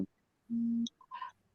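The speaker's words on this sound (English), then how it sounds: "Let me turn my alarm on." Alarm being switched on: a short low steady tone, a couple of brief high chirps, then a rising electronic beep sequence, fairly quiet and close, without talk.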